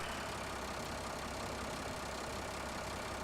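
A tractor engine idles steadily in Farming Simulator 17 as a continuous, even mid-to-low rumble with a noisy, hissing character and no pauses or talk.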